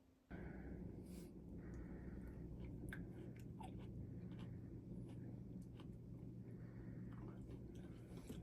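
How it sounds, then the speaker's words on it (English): Close, steady chewing of fresh greenhouse-grown broccoli and cherry tomatoes, soft crunchy bites repeating throughout with no talk. "We're eating broccoli and cherry tomatoes."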